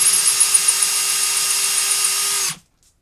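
A case trimmer cuts the mouth of a 357 SIG brass case with a steady, close, high whirring drone that runs evenly for about two and a half seconds, then stops abruptly into silence.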